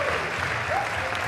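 A packed racquetball crowd at the US Open Racquetball Championships semifinals applauds and cheers continuously, dense steady clapping filling the hall with a few raised voices, loud and uninterrupted.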